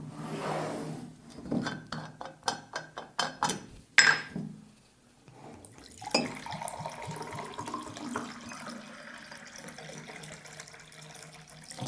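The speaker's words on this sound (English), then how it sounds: "Let me just serve some water for you and for me." Water poured into a glass: a few light knocks and clinks, then a steady, close trickling pour that gently rises in pitch as the glass fills.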